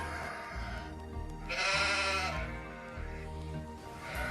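Sheep bleat a few times, one long loud wavering bleat in the middle with fainter calls before and after over a soft background.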